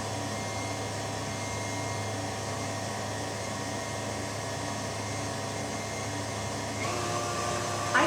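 A stand mixer hums at medium speed in a steady, continuous drone, its motor tone holding even and close throughout, with a slight brightening and rise in level near the end.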